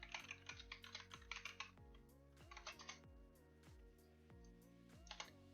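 Someone types code on a computer keyboard in quick irregular bursts of crisp key clicks, close and clear, with short pauses between runs over a quiet musical background.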